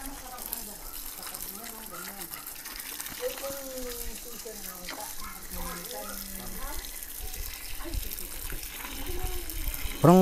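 Steady running tap water splashes over oregano leaves being rinsed, a continuous close gush with a voice talking over it.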